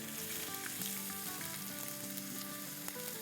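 One cup of chopped onion goes into four tablespoons of hot oil for dhaba-style chicken keema and fries with a dense, steady, close sizzle that stays even throughout.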